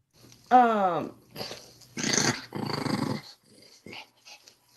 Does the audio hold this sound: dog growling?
yes